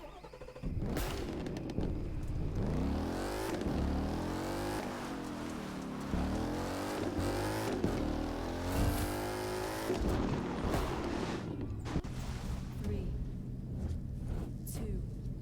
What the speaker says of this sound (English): We go in with our Formula 1 car.